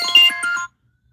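A phone plays a short bright melodic ringtone of a few quick chiming notes. It stops abruptly, leaving silence.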